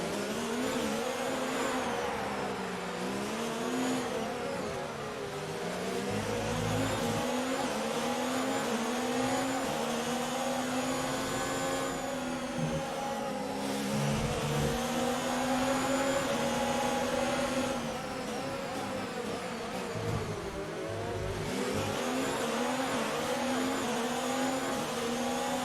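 Formula 1 race car engines in the F1 2019 video game at the Azerbaijan Grand Prix, a continuous high-pitched whine that rises and falls through gear shifts for over twenty seconds, with occasional low thumps.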